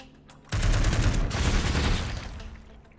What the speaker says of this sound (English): Could always just missile barrage